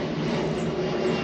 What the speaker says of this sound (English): just like these airplanes, they keep going